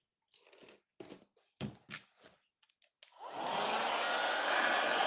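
A hair dryer blows steadily on a craft project coated in crackle medium, a loud continuous whoosh that starts partway through after a few bursts of speech.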